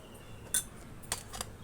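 A metal spoon clinks against a bowl while measuring gram flour for a face pack, two or three light, sharp taps over a quiet background.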